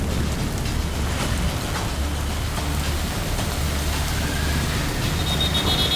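Steady, heavy rain pours down in Ahmedabad, a dense unbroken hiss with a low rumble underneath, continuous and fairly loud throughout.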